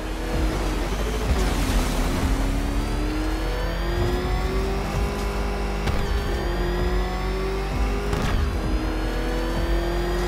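A car engine in the video game Batman: Arkham Knight revs hard and continuously, its tone climbing and settling with gear shifts. The roar is loud and close and holds for the whole stretch.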